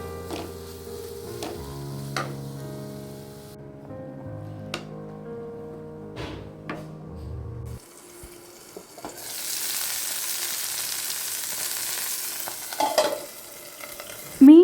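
Fish sizzles as it fries in oil in a pan, a steady crackling hiss that swells louder in the second half over faint kitchen clinks and a low hum.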